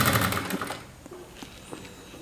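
A sewing machine stitches a saree blouse sleeve in a quick close whir that starts loud, then slows and fades into sparse clicks.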